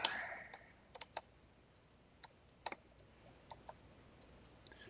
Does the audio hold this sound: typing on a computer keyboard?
yes